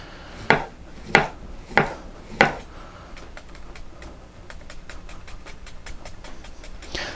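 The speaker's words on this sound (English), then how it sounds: "I did not slice this end of the cucumber, so I can keep holding it while I do these small cuts" Knife slicing a cucumber into small pieces on a cutting board: four sharp, evenly spaced chops, then a quick run of lighter rapid taps, close and alone.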